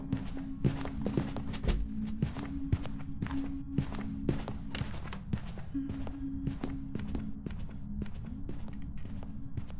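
Ghost footsteps thud in a fast, steady run of heavy steps during a hunt in the horror game Phasmophobia, loud and close over a low droning hum.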